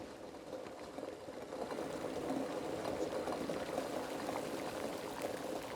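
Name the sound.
kettle boiling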